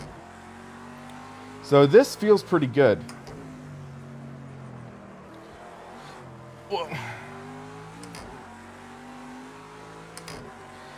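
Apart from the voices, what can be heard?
race car engine revving in the video game Project CARS 2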